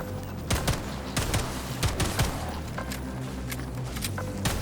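Fully automatic gunfire in the shooter video game Atomic Heart: bursts of rapid shots crack repeatedly over a droning game ambience, fairly close and loud.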